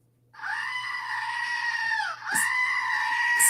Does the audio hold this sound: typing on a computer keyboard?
no